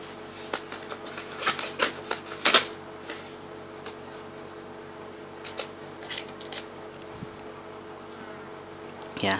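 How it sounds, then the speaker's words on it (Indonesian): Scissors snip through paper that has tape stuck onto it, while making an LED neon lamp: a string of short, sharp, crisp cuts in quick clusters, close up and fairly quiet, with a faint steady hum under it. "Terus saya gunting"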